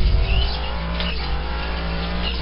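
A GT race car engine in iRacing pulling out of the pits at Silverstone, a loud, steady in-car drone with a sustained tonal whine that holds throughout, close and unbroken.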